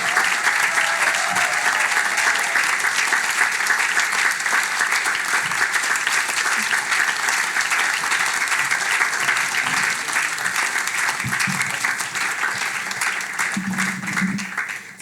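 An audience applauds steadily to welcome a keynote speaker, Distinguished Professor Marcia Langton, at a public talk on Voice, Treaty and Truth. The dense clapping is loud and sustained, then thins near the end.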